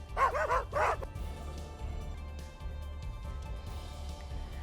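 Stray dogs in a residential neighbourhood bark twice in quick succession, loud and close, followed by a low steady background hum with faint distant sounds.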